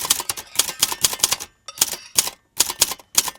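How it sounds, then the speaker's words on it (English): Clacking keys of a manual typewriter on a narrowboat home in London, rapid close bursts of strikes separated by brief pauses, loud and alone with no speech. "And then I'll just type some words."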